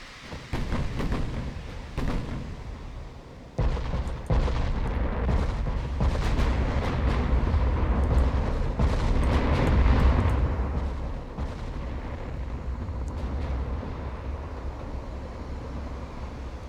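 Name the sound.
naval gunfire in the video game Ultimate Admirals Dreadnoughts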